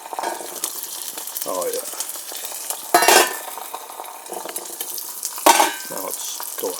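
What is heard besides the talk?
eggs frying in a pan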